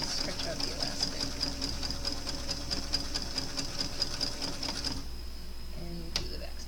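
A sewing machine stitches elastic onto a lacy top with a rapid, steady mechanical chatter, close and continuous, then stops, leaving a faint hum and a few small clicks. A voice talks faintly over it.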